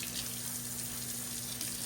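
A kitchen tap runs steadily while something is rinsed under it, a faint, even hiss of water with no breaks and no voices.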